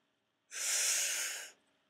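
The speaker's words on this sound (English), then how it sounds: "Okay, take a deep breath." A single deep inhalation, close and fairly loud, lasting about a second with a hissy airy rush, then quiet breathing noise afterward; no talking.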